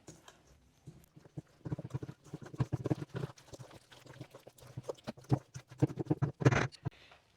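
Rye seed bread dough with raisins and other mix-ins being stirred by hand in a bowl, a series of close, irregular thick squelching thumps and slaps that build in intensity, with no talking.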